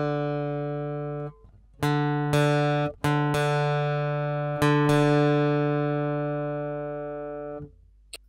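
A guitar's open D string is tuned down against the A string at the 5th fret: sustained paired notes ring together, are re-plucked several times with sharp attacks, and slowly decay, close and clear without speech.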